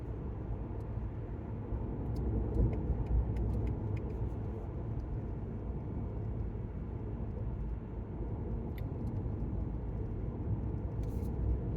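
A car drives through a run of winding S-curves, its steady road and engine rumble continuous and fairly loud from inside the cabin, with no talking.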